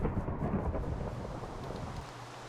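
Thunderstorm in the game Minecraft, a broad low rumble with rain noise rolling steadily throughout and easing slightly toward the end, with no voices.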